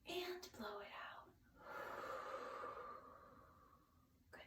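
Children blow out a big breath, a long airy whooshing exhale after a sharp gasping inhale, close and soft, ending with a brief puff.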